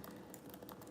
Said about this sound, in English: I'm gonna be typing out my affirmations